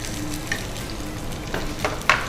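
Chopped onion and green chillies fry in a hot pan for an aloo tomato sabzi, giving a steady sizzle with a few stirring scrapes and clinks and no talk.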